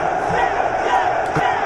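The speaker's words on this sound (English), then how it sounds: "they had a key on the sound effects keyboard of the Jets cheer" A short crowd cheer for the New York Jets, played from a radio show's sound effects keyboard: a brief burst of shouting, roaring voices that holds steady and loud for under two seconds.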